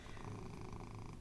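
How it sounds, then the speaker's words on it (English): A cat purrs loudly and steadily at close range, a continuous rumbling drone with no pauses. "you're purring so loud"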